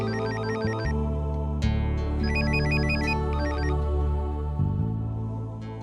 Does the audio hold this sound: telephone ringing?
yes